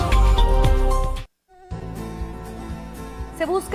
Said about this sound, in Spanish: Se busca al zancudo Aedes aegypti